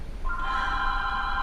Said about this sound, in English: It's the house phone.